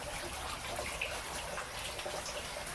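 Water from an aquaponics pump in a greenhouse pours steadily out through a big tube, a continuous close splashing rush with no breaks.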